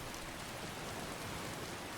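Rain pours in Skyrim, a dense, continuous hiss of drops that is broadband and even, quiet and unchanging for its whole length, with no voices.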